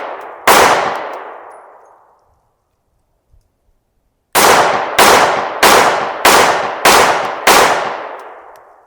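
A Kimber KDS9C Rail double-stack 1911 pistol fires a single sharp shot with a long ringing decay, then after a pause five more shots come in a quick, evenly spaced string, loud and close outdoors.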